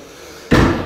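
A door shuts with one loud, close slam after a quiet room moment, the thud ringing briefly before fading.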